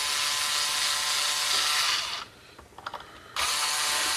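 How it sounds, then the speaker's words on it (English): A cheap electric screwdriver spinning as a guitar string winder on a Les Paul style copy, a steady high motor whine that cuts out briefly, leaving a few faint clicks, then starts again. "It's actually not a string winder. It's actually meant to be an electric screwdriver."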